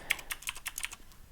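Quiet, close typing of code on a computer keyboard: about eight crisp keystrokes in quick, slightly uneven rhythm, heard alone without talk.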